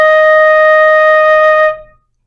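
A flute holds a single steady E flat for under two seconds, clear and close, before cutting off into a short fade.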